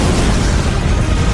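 A huge explosion representing the Big Bang: a dense, steady roaring rumble that stays loud and unbroken throughout.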